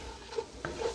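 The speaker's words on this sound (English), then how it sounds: "Now we're gonna stir that around in here with this." Flour being stirred into melted butter in a pot for seafood chowder, a soft low sizzle under a couple of quiet scraping strokes and a light knock of the utensil against the pot.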